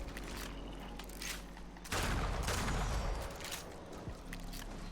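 Gunfire in the Fallout 4 video game: a dense burst of shots erupts about halfway through and carries on loudly, over a busy backdrop of scattered game noise.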